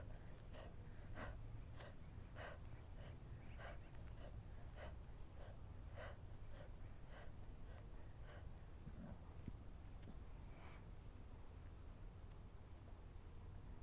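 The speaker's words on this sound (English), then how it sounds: "Exhale as you tap." Rhythmic breathy exhales repeat about every half second over steady low background noise during a solar plexus chakra exercise with fingers tented, with no talking.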